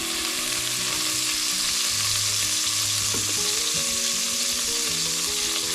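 Lamb fat frying in a pan over low heat, a steady, continuous sizzle with faint stirring scrapes and light clatter underneath.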